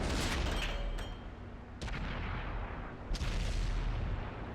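Heavy booming shots from a Panther tank's 8.8 cm gun in World of Tanks, three loud blasts spaced about a second apart over a constant rumbling battle background.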